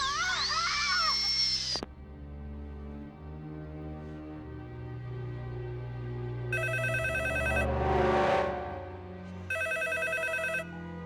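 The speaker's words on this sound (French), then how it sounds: "Alors pourquoi le téléphone sonne?" A telephone bell rings in two bright bursts, each about a second long, with a gap between them, heard over a low tonal backdrop after an earlier sustained sound.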